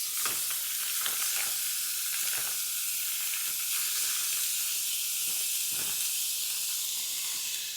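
One pound of ground beef sizzling in a pan, a continuous bright hiss of frying fat with occasional soft scrapes and stirring clicks, close and steady throughout without any talking.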